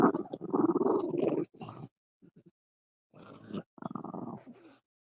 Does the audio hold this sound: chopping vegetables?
no